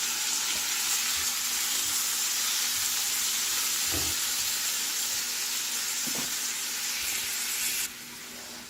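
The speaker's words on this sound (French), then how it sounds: "je vais ajouter la tomate que j'ai coupée en petits morceaux" Diced tomato goes into golden fried onion in a hot pan, making a loud continuous sizzle with a couple of soft stirring knocks, before the hiss drops sharply near the end.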